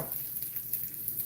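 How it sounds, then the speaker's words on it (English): Fish searing in a frying pan that is sticking, giving a soft, even sizzle with faint crackles, steady and fairly quiet for a moment. "we want to get a little bit of a sear on this fish"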